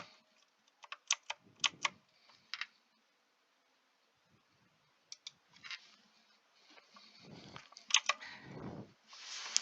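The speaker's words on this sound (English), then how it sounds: "we have to click multiple time F10" Several separate key clicks on a computer keyboard come in sparse little clusters with quiet gaps between them, close and fairly faint, with soft handling noise and no voices.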